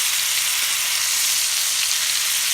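Steak searing in a pan over very high heat, a steady, loud, close sizzle that holds evenly throughout without any talking.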